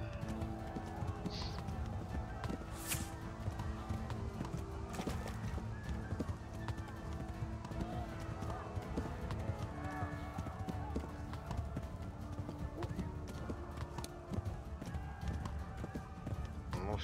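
A horse galloping in the video game Kingdom Come: Deliverance, its hoofbeats clip-clopping steadily for the whole stretch with an occasional neigh, while someone talks over it.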